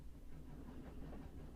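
Steady low rumble and rhythmic rattle of a train in motion from the video game 80 Days, continuous and moderately quiet with no voices.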